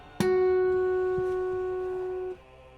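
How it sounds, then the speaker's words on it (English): A guitar harmonic is picked on the G flat string, giving a single clear, pure bell-like tone. It rings close by for about two seconds and then is abruptly damped. "If I were to do the harmonic,"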